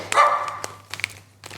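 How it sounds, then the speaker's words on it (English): Dogs give a sharp yelp followed by a few short, scattered barks, moderately close, over a low steady hum. "These dogs are on edge."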